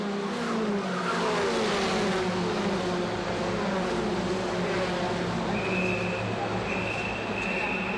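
World Touring Car race cars lapping the Macau street circuit, engines droning loudly and continuously with rising and falling pitch as the pack passes, a commentator talking over the roar.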